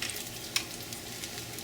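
Pork frying in oil in a hot pan gives a steady crackling sizzle with a brief sharper spatter or clink partway through, close and continuous.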